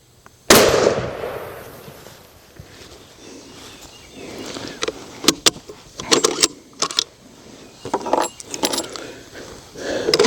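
A single sharp rifle report from a Ruger Model 77 MKII chambered in .264 Win Mag cracks loudly near the start while shooting at a swinging target outdoors, followed by scattered softer clicks and rattles.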